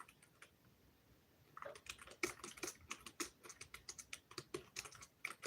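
Quiet, close-up typing on a computer keyboard, a pause and then a steady run of irregular, crisp key clicks, some sharper than others, with no talking.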